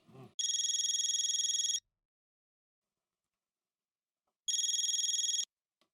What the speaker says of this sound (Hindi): जीतू भाई को फोन लगाओ